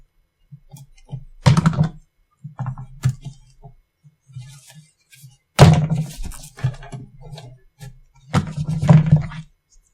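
Small scissors snipping short pieces of conductive thread or wire for a Halloween LED bracelet built on a LilyPad board, giving a few sharp close clicks and thunks in separate bursts with quiet gaps between.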